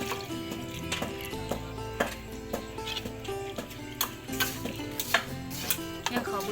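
Rice pounded in a mortar for a big pot of Thai bamboo shoot curry. Repeated thudding strikes fall in an uneven rhythm at close range, with clinking over a continuous background of music.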